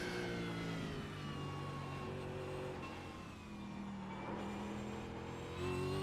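A Supercars race car running an outlap in the iRacing video game, its engine droning steadily near and loud with shifting revs and gear changes throughout, no talking.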